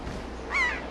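A seagull calls once in the Legend of Zelda Wind Waker game, a brief high cry rising over faint background ambience.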